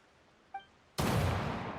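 A single gunshot from a musket in the video game Genshin Impact: one sudden loud broadband blast that lingers as a sustained rumbling roar, preceded by a brief faint tonal chime.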